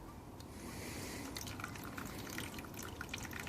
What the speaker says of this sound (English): Now I'm watering this,